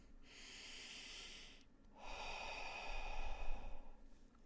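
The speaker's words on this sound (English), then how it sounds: "Another inhale, exhale." A slow, deep breath in a quiet room during a guided meditation: a long soft inhale, a brief pause, then a longer, fuller exhale, breathy and close with no talking.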